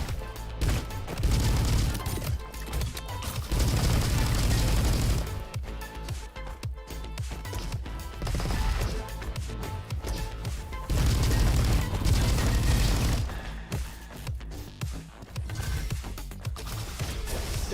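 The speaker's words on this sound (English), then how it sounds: "I like the tra-tra-tra-tra-tras that pop out while it's shooting" Weapon fire from the roguelite FPS Roboquest, dense and loud, with rapid rattling bursts and heavy booms repeating in waves over a thick game soundscape.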